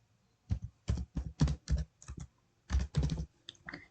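Quick bursts of keystrokes on a computer keyboard as a search is typed, about ten clustered clicks in an uneven rhythm, close and clear with no talking.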